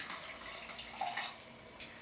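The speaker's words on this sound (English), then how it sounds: "So I'm going to pour my pink pulp on there, through there, and onto the pantyhose." Pink paper pulp poured through stretched pantyhose mesh in a kitchen, a soft running splash of water with a few bright drips and spatters, close and gentle.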